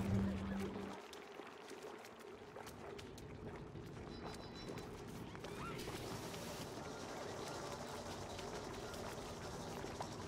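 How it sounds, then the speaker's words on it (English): Polluted water pours out in a video game, a steady rushing trickle that runs under the game's music and other effects throughout. "We want polluted water to come out here."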